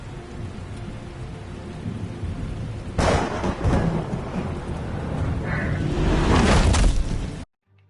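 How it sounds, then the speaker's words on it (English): Loud thunder rumbles and cracks over steady rain in the Batman Telltale video game, a burst breaking in midway and swelling again before cutting off abruptly. "I have no clue how that thunder actually scared me"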